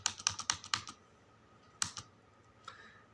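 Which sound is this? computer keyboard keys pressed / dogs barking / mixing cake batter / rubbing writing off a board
computer keyboard keys pressed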